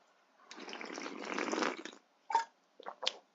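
Water pours in one steady, fairly loud gush lasting about a second and a half, then goes quiet before a few short, separate splashes or gulps.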